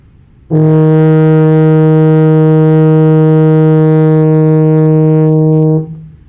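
A single sustained brass note, E flat, on a baritone horn, steady and full-toned for about five seconds before cutting off, played alone.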